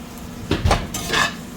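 A tray of vegetables, including a large onion, slides into a home oven with a couple of close metallic clanks and scrapes of pan against rack, with no talking.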